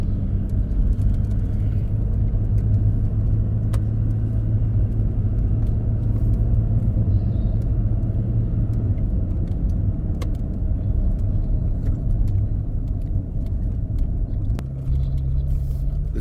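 A car drives along a public road toward the lower entrance of the Coon Bridge Trail, heard from inside as a steady, loud low rumble of engine and tires with occasional small rattles.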